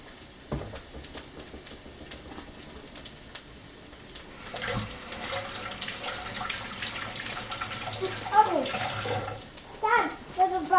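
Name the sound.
tap water running while hands are washed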